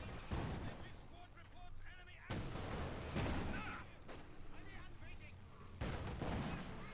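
Tank cannon fire in Company of Heroes 2, a SturmPanther firing through hedges on a battlefield, several heavy booms at intervals amid constant gunfire and rumble, loud and close.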